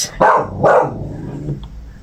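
A pet dog named Luna barks twice in quick succession close by indoors, followed by a brief low grumble.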